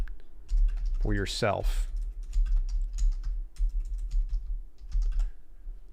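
Rapid clicking of fingers typing on a computer keyboard, a steady stream of light taps running throughout, with a brief spoken phrase early on.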